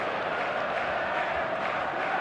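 Steady roar of a stadium crowd of football fans at an eFootball 2026 match day, a dense continuous wash of massed voices and cheering held at an even level throughout with no single voice standing out.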